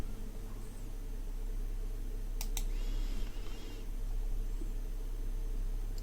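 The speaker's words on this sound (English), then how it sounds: "I'm just clicking that button" Two quick, faint clicks from a button on a Cessna C172 flight simulator cockpit panel, heard over a steady hum of background noise, with no voices.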